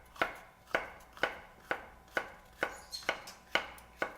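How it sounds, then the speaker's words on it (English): A knife chops colorful bell peppers into strips on a board, with about nine crisp, evenly spaced cuts close by and no talking. "You cut right in the middle and cut little strips of it."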